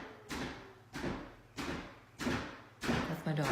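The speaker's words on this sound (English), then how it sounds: "She's sitting up against my door, banging on the door." A child bangs on a door from the other side with five heavy, booming thuds spaced roughly evenly, loud and close, with faint voices mixed in.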